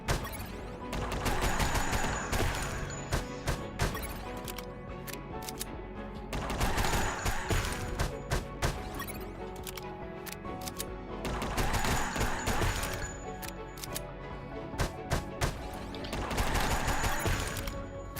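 Repeated gunfire from the video game UnMetal, bursts of shots recurring in waves over a steady backdrop of game music and effects, moderately loud throughout.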